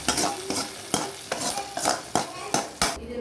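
Repeated stirring in a pot of mutton kofta curry as a tempering of fried onion and green chili is mixed in, with spoon scrapes in a steady rhythm about every half second over a sizzling background, close and moderately loud.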